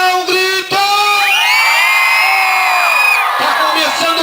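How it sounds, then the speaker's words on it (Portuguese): Rodeo opening crowd shouting and cheering together in one loud, sustained roar that swells and fades over a few seconds, with whoops and yells layered on top. "Quem está feliz dá um grito."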